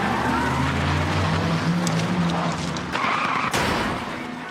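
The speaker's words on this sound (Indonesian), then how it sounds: "mobil itu berusaha kabur dari sana" A car speeds away from soldiers in a zombie outbreak film, its engine droning loud and close with a rising whine, joined by a sharp crack near the end.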